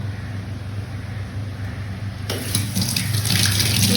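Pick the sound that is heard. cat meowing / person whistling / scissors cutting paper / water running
water running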